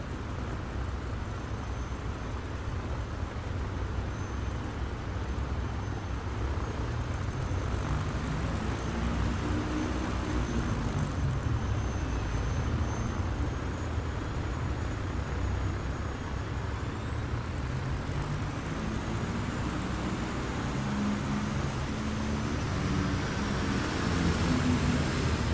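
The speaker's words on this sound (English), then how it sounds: "This X-Cub takes off on nothing, doesn't it?" An X-Cub light aircraft in a flight simulator crosses grass onto runway 16 and takes off. Its engine drones steadily and loudly from start to finish, with a slow rise in pitch as it climbs away.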